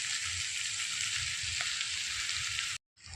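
Chopped spring onions sauté in a pan for vegetable soup, giving a steady, even sizzle throughout, with a brief dropout near the end before the frying hiss resumes.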